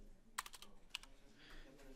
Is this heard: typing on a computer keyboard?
yes